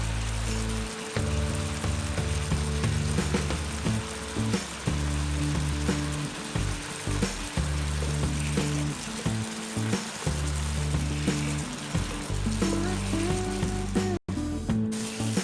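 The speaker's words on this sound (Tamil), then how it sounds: "அரை டம்ளர் அளவுக்கு தண்ணி சேர்த்துக்கோங்க. உருளைக்கிழங்கு வேகட்டும்." Potato pieces cook with about half a tumbler of added water in a pan, giving a continuous crackling sizzle and bubbling that stays steady and fairly loud from start to finish, with a brief break near the end.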